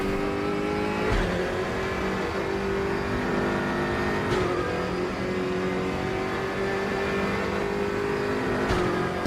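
A race car engine from RaceRoom Racing Experience roars through a hotlap as a steady, high-revving buzzing drone, broken by a few brief gear-shift interruptions, with no talking over it.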